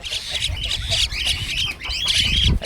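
Myna chick and parent mynas squawk and call in rapid, overlapping bursts, high-pitched and near, with a low rumble underneath and a voice faintly mixed in.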